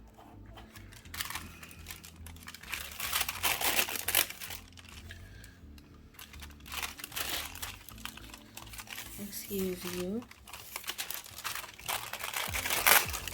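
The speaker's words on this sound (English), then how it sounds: "let me fold this wax paper" Wax paper being crinkled and folded, bursts of loud crisp rustling and crackling in several bouts, with a person talking briefly between them.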